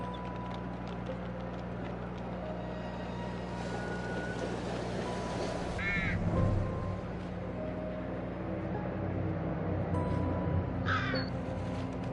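Crows caw in the horror video game The Devil in Me, two short harsh bursts standing out over a steady low ambient drone and hiss, moderately distant.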